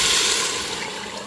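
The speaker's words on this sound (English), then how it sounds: "we're going to add in our water carefully" Water poured carefully into a cooking pot, a continuous splashing, gurgling stream that stays close and fairly loud, tapering slightly toward the end with no talk over it.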